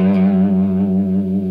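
A single sustained note on a Les Paul electric guitar, third fret of the E string, held with gentle vibrato and a touch of reverb, loud and close with no talk.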